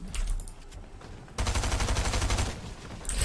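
Rapid automatic gunfire in a video game, loud and sustained in dense bursts, with a sharper, denser volley partway through and no talking over it.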